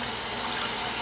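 Water runs steadily from a tap to rinse shaving lather out of a QShave Parthenon safety razor, a constant close splashing rush with no breaks and no talk.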